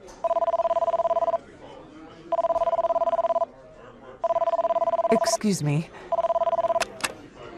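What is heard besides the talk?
cell phone ringing in a restaurant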